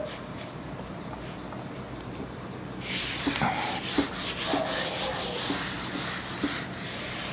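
Writing being rubbed off a classroom board, a continuous dry scrubbing with rhythmic strokes that starts partway through and stays fairly loud to the end.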